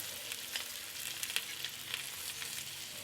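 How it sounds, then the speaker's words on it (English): Fried fish head sizzling in a pan with cumin powder, turmeric and salt, a steady close crackle with small popping bursts and no voices. "Fry it until the head breaks into pieces."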